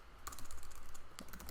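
Computer keyboard keys pressed in a quick cluster for a Shift Command C shortcut, with several close, crisp clicks and a second tap later, heard alone in a quiet room.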